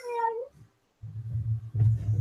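A house cat gives a single clear, drawn-out meow up close, followed by a low rumbling murmur and a few soft indistinct sounds.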